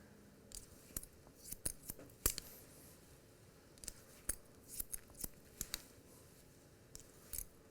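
Scissors snip through hair during a men's haircut for a disconnected side part with an undercut. The short crisp cuts come close and fairly quiet, in irregular clusters of two or three snips with brief pauses between, and no one talks.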